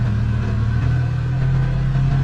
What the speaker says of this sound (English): we'll go for a test drive